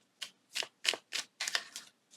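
A mini tarot card deck being shuffled by hand, about seven quick crisp riffling bursts in an uneven rhythm, close and fairly quiet, with no talking.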